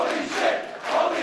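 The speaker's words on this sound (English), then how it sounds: "just listen to this crowd" A wrestling crowd roars through a championship match between Jay Lethal and Noam Dar, a dense continuous cheer with two swelling surges, loud and filling the space.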